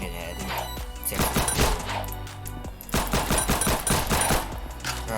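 Rapid automatic fire from a common gun in the Ragdoll Universe video game, bursts of sharp close shots in quick succession with a short gap between volleys, loud and dense.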